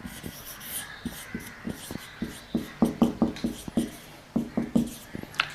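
Chalk or marker strokes tap and scrape across a classroom board during a chemistry lecture, arriving in quick irregular bursts that build into a busy cluster before trailing off, close and fairly clear.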